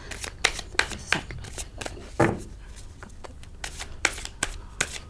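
Tarot cards are being shuffled by hand during a reading, heard as close, rapid papery riffles and flicks in irregular bursts, with one louder slap partway through.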